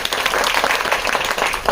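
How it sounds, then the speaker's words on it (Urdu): A program audience applauds a guest, with dense, steady clapping from many hands filling the space throughout. "اور ایک بار پھر تالیاں ملیں۔"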